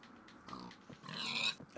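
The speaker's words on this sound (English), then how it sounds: "There's another pig in the distance as well" Pig oinking in Minecraft video game, a couple of short grunting oinks followed by a longer squealing call, fairly faint with no talk over it.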